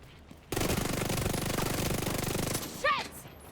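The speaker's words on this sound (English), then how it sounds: "Some shooting." A loud, rapid burst of automatic gunfire in a video game lasts about two seconds before cutting off abruptly, followed by a short voice.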